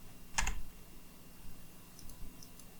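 A computer keyboard key is pressed once, a sharp close click, followed by faint quiet ticks in a calm room.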